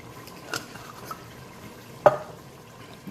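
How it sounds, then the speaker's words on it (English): A spoon stirring Russian stew with parsley and dill in a pot, quiet scraping with a couple of soft knocks and one sharper clank against the pot. "And I will just mix it one last time, and I will let it cook."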